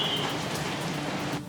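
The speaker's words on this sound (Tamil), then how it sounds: "சென்னையில் இன்று காலை முதலாகவே பலத்த கனமழை என்பது பெய்து வருகிறது" Heavy rain pours steadily in Chennai during Cyclone Fengal, a dense, loud hiss of downpour that continues without break and eases slightly at the very end.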